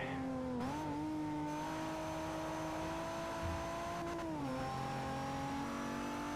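A race car engine in Forza Motorsport 4 revs hard and steadily, its pitch climbing and holding near the rev limit before dropping with a gear change, loud and continuous with no voices.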